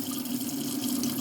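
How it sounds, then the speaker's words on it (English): Hot and cold water pouring into a tea container to fill it toward 32 ounces, a steady rushing stream held close and constant throughout. "then I would add water to it"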